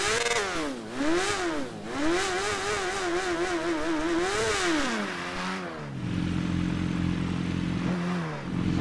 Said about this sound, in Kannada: ಈ ಗಾಡಿ ಸೌಂಡ್ ಅಂತೂ ಭಯಂಕರ ಆಗೋಗಿದೆ ಇವಾಗಂತೂ.